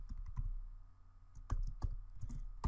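Keys clack irregularly on a computer keyboard at close range, a quiet scattering of individual taps with a few sharper strikes, and no voices.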